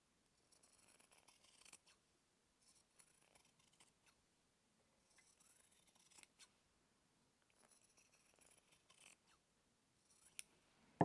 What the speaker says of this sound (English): you can always trim a little bit more off